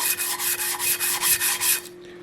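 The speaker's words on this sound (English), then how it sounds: "So we're just going to sand it" Rhythmic rasping strokes of sanding and filing on a brass knife guard, about nine even back-and-forth passes close up, then stopping abruptly near the end with a steady faint hum underneath.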